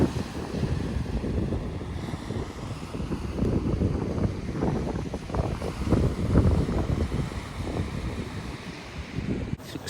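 Wind buffeting the microphone over surf on the coast at Eyemouth, with waves washing in as a steady, loud roar that swells and eases throughout, no voices.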